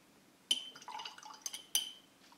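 Water is added to a paint-mixing dish while painting a Black Legion Lord of Chaos miniature: a few light liquid splashes and small clinks of brush or dropper against the dish, quiet and close, no voices.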